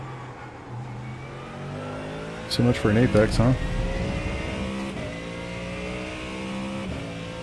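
A front-engined race car in the iRacing sim drones steadily, with a brief sharp burst of revs partway through. The engine sits under someone talking.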